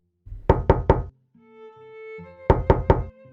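Two bursts of three sharp knocks on a door, loud and close, separated by a brief stretch of tonal humming or sustained sound in between.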